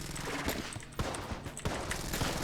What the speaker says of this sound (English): I'm just going to try to use up all the Quad Laser ammo